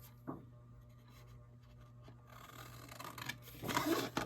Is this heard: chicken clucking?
no